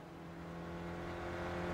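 An SRF race car's engine hums steadily through a lap of Brands Hatch Indy circuit in the iRacing sim, with a continuous tonal drone that builds slightly in loudness, no voices.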